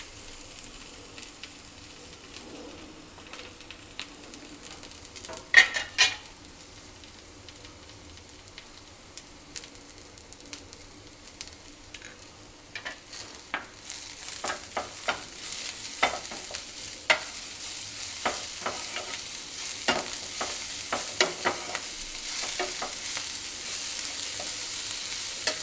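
Vegetables for veg spring rolls sizzling and frying in a pan, with occasional stirring scrapes and clinks, the crackle growing louder and denser partway through, no talking.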